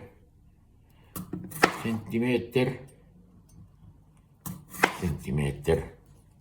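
A knife cuts a potato into centimetre-thick slices on a board, two clusters of sharp chopping knocks, close and crisp, separated by quiet pauses, with someone speaking between and over the cuts.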